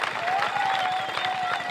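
A church congregation at an evangelistic gathering breaks into dense, sustained applause and cheering, a loud continuous roar of many hands with a voice ringing faintly through it.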